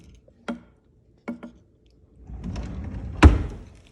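A kitchen drawer in a house shuts with a few short wooden thumps, then a brief rumbling slide ends in one firm, close knock.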